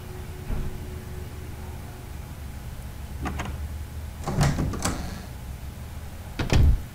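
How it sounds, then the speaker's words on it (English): Door unlocking in the video game Resident Evil HD Remaster: a string of mechanical clicks and clunks, with a heavier latch thud near the middle and a final loud clunk near the end, with no talking. "perhaps that'll make the door unlock"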